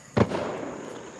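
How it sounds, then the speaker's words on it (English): A single sharp firework bang pops out nearby, followed by a crackling, fizzing tail that slowly dies away over a low background hiss. "somebody over here letting off fireworks"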